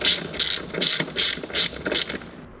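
A hand ratchet clicks in short bursts while bolts on a RAM 6.7 Cummins diesel engine are tightened, six crisp, close ratcheting strokes in a steady rhythm before it falls quiet.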